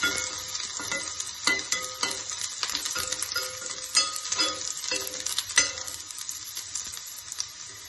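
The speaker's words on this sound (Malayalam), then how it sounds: "ഇതിലേക്ക് ഒരു ചെറിയ സ്പൂണ് വെളുത്തുള്ളി ആഡ് ചെയ്തെടുക്കാം. ഇത് നന്നായിട്ട് മൊരിയിച്ചെടുക്കാം." Garlic sizzles steadily in hot oil while a spoon stirs and scrapes the pan, with clinks and scrapes over a constant close frying hiss, no voices.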